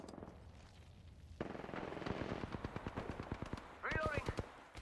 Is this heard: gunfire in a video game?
yes